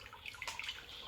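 Water splashes and trickles from a Breville Barista Pro BES878 espresso machine as it dispenses, a faint, brief burst of watery noise.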